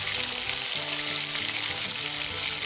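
Cumin seeds and whole garam masala spices fry in hot ghee with onion for a Pakistani degi chana pulao, giving a steady, close, bright sizzle and crackle that continues without a break.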